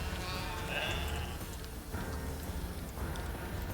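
Sheep bleat in the Manor Lords video game, a couple of short nasal calls over a dense, steady bed of ambient game noise and low rumble.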